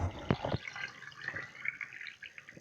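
Water poured into a container of eggs resting in quicklime, starting with a few splashy glugs and then settling into a soft, steady trickle and drip, close by and moderately quiet with no talk.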